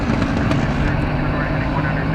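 Qantas Flight 8 airliner at DFW Airport, bound for Sydney, roaring steadily at a distance with a continuous broadband engine rumble and a droning low hum throughout, with faint talk in the background.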